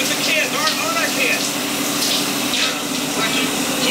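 Shower water running in a home, a steady spray and hiss under a background hum, with some voice-like sounds over it throughout.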